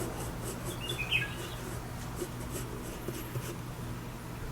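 Faint scratching and rubbing of a pencil on paper while an eye's iris is drawn, a soft steady scribble with a few brief squeaky strokes over low room hum.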